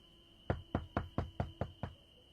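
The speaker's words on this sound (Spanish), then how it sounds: "tocaron otra vez a su puerta" Seven firm, evenly spaced knocks on a door, close and resonant, with a faint steady hum behind them.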